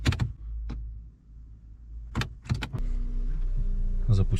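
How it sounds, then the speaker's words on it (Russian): An Audi donor car's engine is started for a jump-start: a few clunks and clicks, then the engine cranks and catches into a steady low idle rumble, up close. "Так, запускаем Audi."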